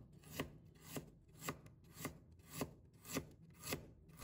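A knife slices through a piece of peeled fresh ginger on a board, making about eight steady, evenly spaced cuts. The chopping is close and soft, with no talking.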